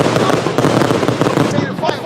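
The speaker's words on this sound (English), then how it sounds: "They came back there for the fireworks." Fireworks going off in a neighborhood, a dense crackling run of bursts and pops that carries on through the stretch, loud and steady, fading somewhat near the end.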